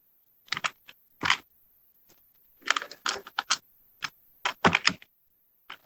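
Someone types on a computer keyboard in short, uneven bursts of crisp key clicks, with brief pauses between them. The keys sound close and clear in a quiet room, with no talk.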